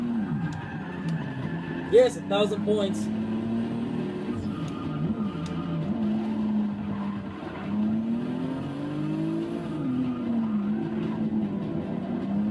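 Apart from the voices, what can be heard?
car drifting with tire squeal in the video game Forza 6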